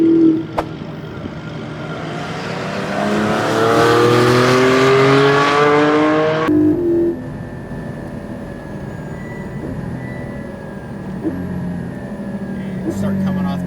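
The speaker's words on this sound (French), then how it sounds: "We're in the Porsche Cayman GT4 for 5 laps." A Porsche Cayman GT4 lapping a race track accelerates with a rising engine note that swells and then drops away abruptly, leaving a steadier lower cabin rumble with voices talking over it.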